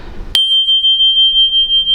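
A small G7 handbell struck once with a mallet rings out with a bright, piercing tone that sustains steadily and pulses gently as it decays, sounding alone and close after a short burst of background noise.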